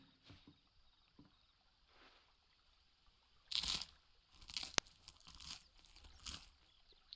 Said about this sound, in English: Crunch, crunch. That's some hard bread.